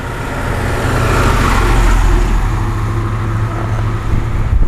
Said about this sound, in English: I've got to pause here for a few minutes while we have traffic that passes by.